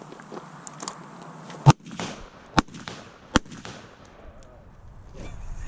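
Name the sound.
rifle shots at 60 yards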